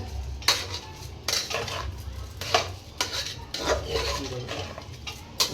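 Spices are stirred in a cooking pot for soya bean pulav, a spoon scraping and clinking against the metal at a steady, repeated rhythm over a low background sizzle.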